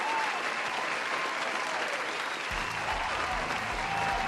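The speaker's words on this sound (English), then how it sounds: "I'm giving claps because I'm trying to make it happy" A streamer's hands clapping in a dense, steady burst of applause-like claps filling the whole stretch, with a faint low hum joining partway through and no talk over it.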